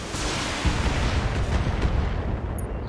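Dense, continuous gunfire and explosive rumble roar through a Operation Flashpoint battle, a loud, unbroken wash of shots and booms with no talk.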